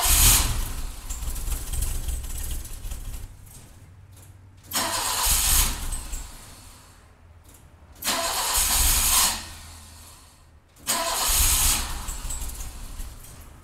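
A 39-year-old BMW E30 engine cold-starting with the idle control valve deleted, cranking and catching in several loud bursts, then idling unevenly between restarts, close by with no talk.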